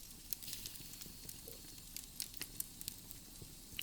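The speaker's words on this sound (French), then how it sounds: "vous vous asseyez en tailleur devant le feu qui crépite" Quiet fireplace fire, a soft steady hiss with scattered small crackles and pops from the logs, fairly faint and alone.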